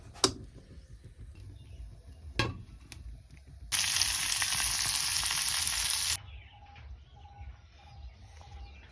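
Saag leafy greens hit hot pure ghee with a sudden loud sizzle that holds for a few seconds before dropping away, preceded by a couple of sharp clicks and faint bird chirps in the background.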